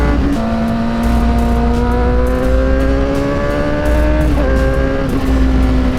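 A motorcycle on a fast road ride holds a loud, steady engine drone with gradually rising pitch and a couple of brief dips, as though shifting or easing off, and no talk.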